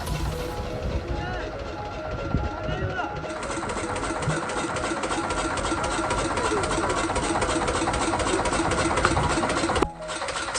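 A boat engine runs steadily on a crab-catching trip at sea, its even mechanical chugging continuous and fairly close. People talk over it, and the engine noise shifts briefly near the end.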